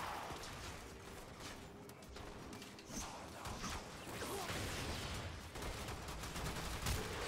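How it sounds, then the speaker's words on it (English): Faint, busy video game gunfire with scattered shots and bursts, plus whooshing and mechanical clatter, all at a low, distant level with no clear talking. "Stop shooting at me."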